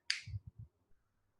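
A single crisp finger snap, close and clean, followed by a few soft low thumps and then near silence.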